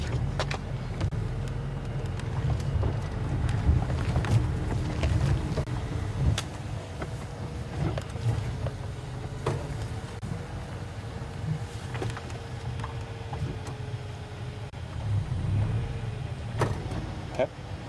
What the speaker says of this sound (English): I'm just going to turn the vehicle around so we're facing the right direction